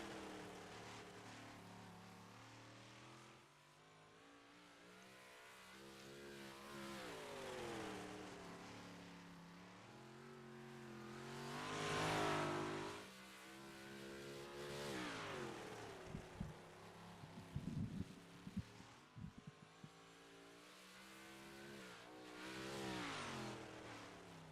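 Race cars lapping a track ahead of heat racing, engines rising and falling in pitch as they pass, with one loud close pass midway and sharp bursts near the end.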